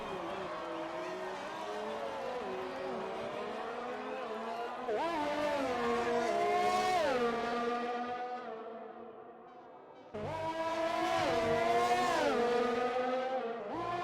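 A Formula 1 race car in F1 2020 screams through a flying lap at the Canada Grand Prix, its high engine note rising and falling through gear changes, with a short dip before revving hard again under commentary.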